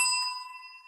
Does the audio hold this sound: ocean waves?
no